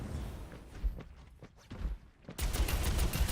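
Rocket fire in the video game Overwatch 2: a rapid burst of explosive shots and thumps, ending in a loud, sustained blast of noise.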